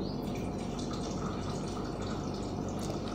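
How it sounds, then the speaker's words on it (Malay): Warm water is poured steadily into a container for a herbal preparation, a dense, continuous splashing and gurgling that stays loud and close throughout with no talk. "air hangat kita tuangkan ke sini"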